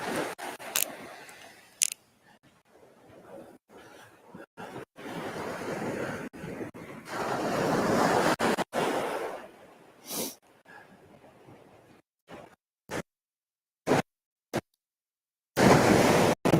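Waves wash onto a remote Australian beach in the dark early morning, with surging swells of broadband surf rising and falling, broken up by sharp handling clicks and short gaps.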